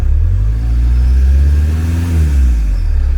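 VW T3 van with a TDI diesel engine, running after a new fuel pump install, revving up and easing back down in one steady close-up swell, a loud continuous drone with no talk.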